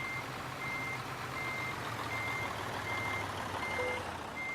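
Steady reversing beeps from a truck backing a trailer into a parking spot in Euro Truck Simulator 2, evenly spaced tones over a continuous low engine rumble.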